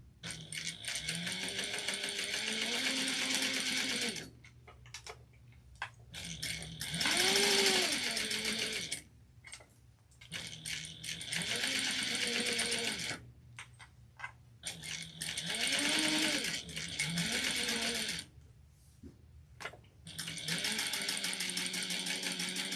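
A sewing machine stitches a narrow lanyard strap in steady mechanical bursts, running for several seconds at a time with short pauses between runs, loud and close with no talking.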